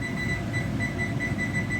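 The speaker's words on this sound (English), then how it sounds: "I'll put a little timer on and see what we work with" Kitchen timer ticking over a gas stove while crawfish pies are prepared, a steady repeating high beep-like tone pulsing about every half second over low kitchen hum.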